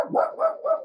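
A dog barks three times in quick succession, close and fairly loud, each bark rough and evenly spaced with no other sound around it.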